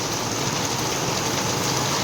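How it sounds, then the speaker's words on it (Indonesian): Steady rain pours down outdoors, a dense continuous hiss of drops falling on surfaces, loud and even throughout with no voices. "Ini mohon maaf agak berisik ya, ini hujan soalnya."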